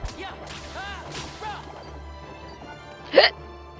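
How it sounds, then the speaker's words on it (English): One sharp, abrupt hiccup bursts out near the end, close and loud, after stretches of voiced sound and breathing. "That was a painful hiccup."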